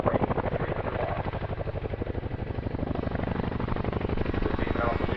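A twin-rotor Chinook helicopter at an airshow, heavy rhythmic blade thump and engine roar, loud and steady throughout with no pause.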